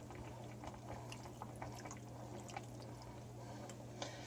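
Lemon juice trickles into a pan of chicken braising in wine, the liquid dripping and splashing over a steady low simmer and bubbling, quiet and close, with no one talking.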